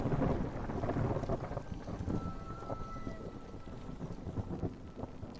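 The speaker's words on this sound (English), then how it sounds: "It's time for another storm." A video game thunderstorm rumbles with low, rolling thunder over a steady wash of rain and wind, dense and fairly loud throughout.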